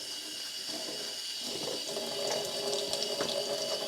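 Running tap water over dyed fabric being rinsed in a sink, a steady hiss of flowing water that grows fuller and splashier midway as the cloth is worked under the stream.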